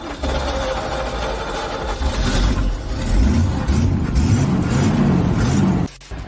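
Manual car engine starting and settling into a steady idle, close and continuous low rumble with slight revving swells, ending in a brief clunk.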